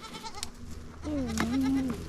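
A goat gives one long wavering bleat from close by in a backyard garden, rising and falling over about a second, with a little faint background noise before it.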